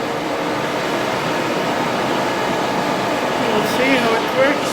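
A Pacemaker lathe turns an outside thread on an elbow workpiece, giving a steady loud machine hum and whir with a continuous broadband drone and faint squeals of cutting near the end.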